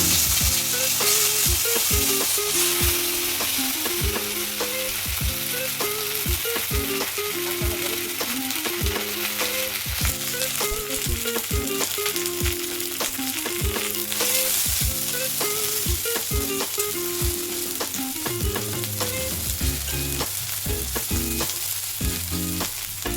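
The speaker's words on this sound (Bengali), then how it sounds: "শুকনো লঙ্কা আর তেজপাতা ফোড়ন দিচ্ছি।" Dried red chillies and bay leaves crackle and sizzle in hot oil as a tempering for a dish of hilsa fish head with taro stems. The loud sizzle runs steadily throughout, with a spoon stirring in a regular rhythm.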